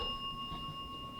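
A bell at Wilson Castle dings, leaving a clear sustained ringing tone that hangs evenly at a moderate level for the whole short moment.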